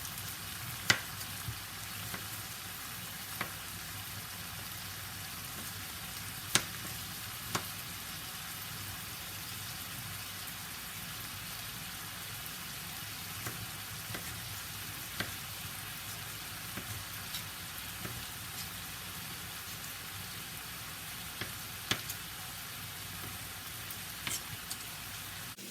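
Bistec, beef steak frying in a pan, crackles as a continuous low sizzle like light rain, with scattered sharp pops and spatters across a long, steady stretch, close and with no talking.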